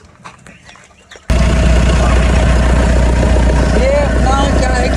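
A Toyota Innova engine with a turbocharger fires up abruptly and settles into a loud, steady idle with a constant low rumble. A faint voice is heard briefly before the start.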